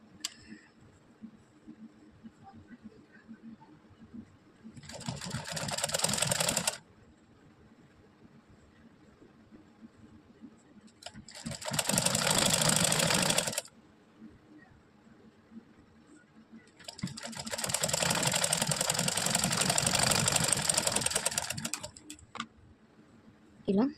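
A sewing machine stitches a sleeve joint on a garment in three long runs of rapid, steady mechanical chatter, each lasting a few seconds, separated by quieter pauses with faint handling noise.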